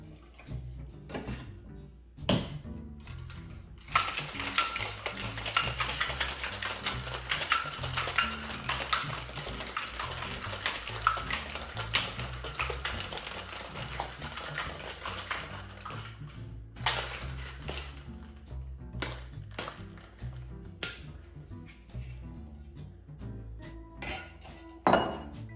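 Ice rattles hard inside a metal cocktail shaker tin, a dense, steady clatter that runs for several seconds and then gives way to a few scattered clinks and knocks.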